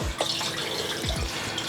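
Water pours from the water tank on a Toyota Tundra overlanding rig, a short splashing gush with gurgles and drips, heard close up and with no one talking.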